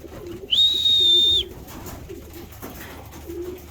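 Racing pigeons coo softly and repeatedly in a loft, low rolling calls close by, broken by one sharp sustained whistle-like tone early on.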